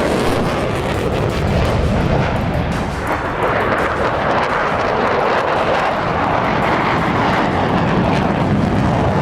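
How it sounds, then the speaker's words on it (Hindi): Loud, sustained roar of American bomber aircraft passing close overhead, a dense, continuous engine rumble filling the whole stretch without a break, with no voices present. "अमेरिकी बॉम्बर्स की गर्जना सुनकर खाड़ी देश क्यों कांप उठा?"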